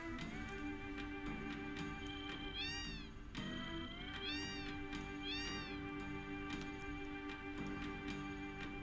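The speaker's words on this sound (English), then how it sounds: "One of these is just like a house full of cats." Cats in the Final Fantasy VII game meow in a series of clear, rising and falling calls, several in succession, over a constant hum of in-game ambience and faint ticking.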